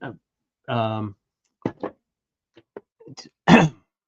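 A man clears his throat in a few short, rough bursts, close and fairly loud, with brief pauses between them.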